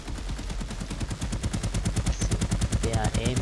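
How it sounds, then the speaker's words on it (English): NPCs in an Unreal third-person shooter video game fire automatic weapons in rapid, evenly spaced bursts, loud and sustained throughout, with a faint voice-like sound near the end. "See, now they are shooting."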